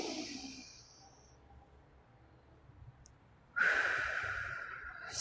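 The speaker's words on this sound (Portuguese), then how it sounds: "Fazer uma respiração profunda, inspirando pelo nariz." A deep breath drawn slowly in through the nose, then released in a louder, airy exhale through the mouth, close and alone in a quiet room during a guided relaxation.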